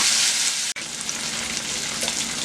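Blackened garlic salmon pieces fry in a hot pan with a steady, dense sizzle close by, briefly cut off for an instant early on before the crackling frying resumes evenly, no voices.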